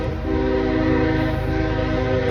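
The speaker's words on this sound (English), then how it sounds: "how long is this train?" A long train rumbles past close by, steady and loud, with a sustained tonal whine from the rail cars running unbroken the whole time.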